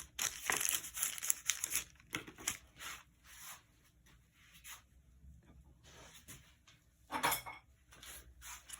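A hand creases and rubs a paper template against a wall, giving soft crinkling and rustling bursts that come and go over several seconds, faint and close.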